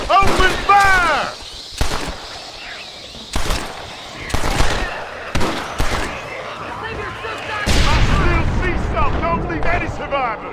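Gunfire in Red Dead Redemption: Undead Nightmare: loud, sharp shots crack out in irregular volleys with booming reports, while voices shout and yell around and between the bursts.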